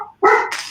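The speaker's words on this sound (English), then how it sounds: "stop that dog barking" A single loud, close dog bark, a short sharp bow-wow that follows a brief whimpering sound, with no talk over it.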